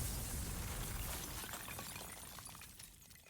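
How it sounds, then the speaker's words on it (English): A blast erupts in the video game Limbus Company, a bright shattering burst with a crackle like breaking glass that decays and fades over a few seconds. "An explosion tore Honglu to shreds as he was picking around the alleyway."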